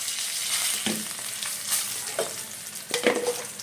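Cumin, asafoetida, turmeric, cinnamon, cloves and curry leaves sizzle in hot oil with a bright, steady crackle, and fresh bursts of spitting occur as ingredients hit the pan and are stirred.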